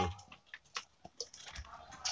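Fingers type on a computer keyboard in a quick, uneven patter of light clicks and taps, faint and close, with no talking over it.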